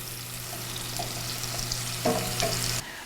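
Onions softening and browning in a pan give a steady frying sizzle with a brief stirring scrape near the end before it cuts off.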